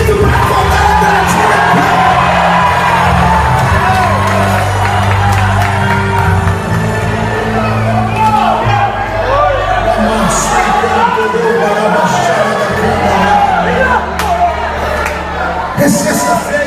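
A large church congregation shouts and cheers together at a service, a loud, sustained roar of many voices with whoops and yells that keeps going for the whole stretch, with sound echoing through the room.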